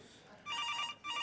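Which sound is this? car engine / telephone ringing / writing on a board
telephone ringing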